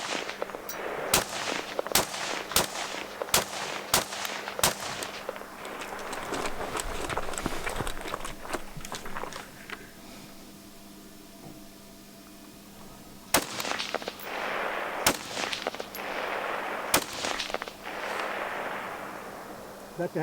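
Sharp gunshots ring out in a two-gun shooting competition with rifle and optics, a rapid string of loud cracks followed by a pause filled with rustling movement, then more spaced shots resume.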